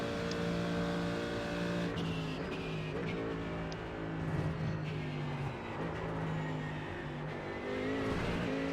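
Jackknife GT3 race car in a racing video game at Daytona, its engine droning loud and steady with harmonic whine throughout, rising and falling slightly as it revs, no talking.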